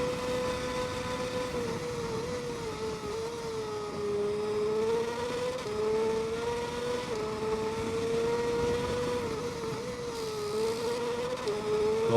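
A racing motorcycle engine in the video game TT Isle of Man 2 screams at high revs, its pitch rising and dipping steadily through gear changes as the bike speeds along, loud and continuous.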